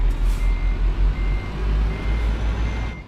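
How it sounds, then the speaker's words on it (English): Reversing beeps from a truck in Euro Truck Simulator 2, a steady run of evenly spaced pulses repeating over the loud, rumbling idle of the engine, with no voices. "Let's back up the truck."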